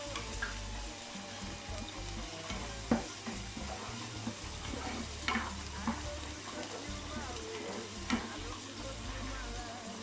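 Sea bream frying in oil with a little butter, a steady crackling sizzle with occasional sharper pops and spatters, close and continuous throughout.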